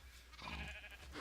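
A Minecraft sheep bleats once, a soft, fairly faint call lasting about a second, with no talking over it.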